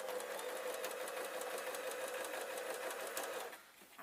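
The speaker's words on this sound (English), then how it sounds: "I'm just going to sew a line down both of them" A sewing machine runs steadily while stitching a straight seam on a fabric sunhat, with a fast regular mechanical chatter that is close and loud throughout, then eases off near the end.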